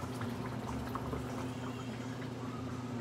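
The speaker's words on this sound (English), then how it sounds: "I probably can add a little bit more water." Simmering pork chop gravy bubbles steadily with a soft, continuous boiling burble while a little water is added, a low, even liquid sound with no voices over it.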